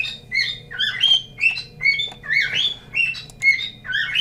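A pet bird squawks over and over in a steady run of sharp, high, nasal calls roughly every half second, loud and close, with no talking.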